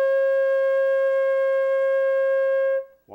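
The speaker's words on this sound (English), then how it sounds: "Here's what C sounds like." A flute sustains a single C note, a pure steady tone held for nearly three seconds before cutting off, followed by a brief soft sound.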